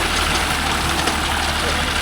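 A John Deere 5310 S 70hp tractor driving a 48-blade rotavator through stubbly farmland, its engine a loud, steady, dense drone with churning rumble throughout, close up and unbroken.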